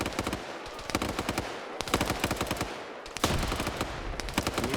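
Rapid automatic gunfire in a PvP video game match, sustained loud bursts of shots rattling close by with brief pauses between volleys, a fresh burst kicking in near the end.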